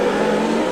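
1990 Formula 1 cars race through heavy rain and spray at the Canadian Grand Prix in Montreal, a loud unbroken engine roar with hissing spray washing over it throughout.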